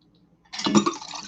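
Liquor splashes and trickles into a small 1.5 ounce metal jigger, beginning abruptly and running steadily for about a second, close and fairly loud.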